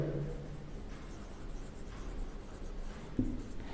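Chalk or marker writing on a classroom board during a lecture on data transmission units, a faint steady scratching with a sharper tap near the end, set against low room noise.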